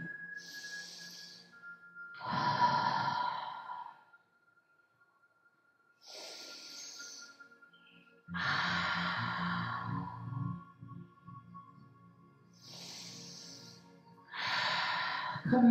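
Slow, audible breaths during a beginner yoga stretch, several soft inhales and exhales separated by pauses, close and quiet with no talking.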